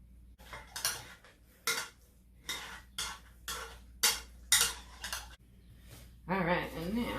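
Potatoes are mashed in a bowl for a chocolate potato cake: a series of about ten distinct, evenly spaced squelching, clattering strokes of a utensil, close and fairly loud, with a voice briefly at the end.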